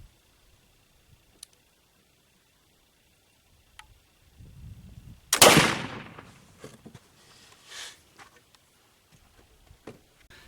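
A single rifle shot fired into an embankment with homemade black powder. One sharp, loud crack breaks a quiet outdoor stillness, trailed by a brief fading rumble and a few scattered small clicks.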